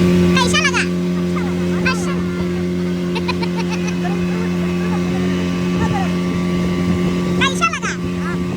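Motorboat running steadily across a lake in Ziro Valley, Arunachal Pradesh, its engine a continuous drone throughout, with brief voices and chatter over the top.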